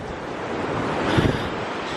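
Surf washing onto a bright blue Hawaiian beach, a steady broadband rush with a slight swell near the middle, mixed with wind buffeting the microphone.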